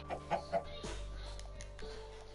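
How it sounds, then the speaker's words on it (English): Chicken in a video game giving a few quick clucks near the start, then a steady low game hum with a faint tonal drone afterward. "And then you're going to get a chicken that can fly."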